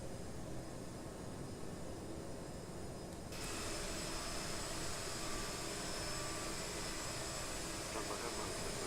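Steady broadband engine roar of an aircraft taxiing on one engine in Microsoft Flight Simulator 2020, rising slightly louder and brighter partway through as a whine joins in, continuous throughout, with faint voice underneath.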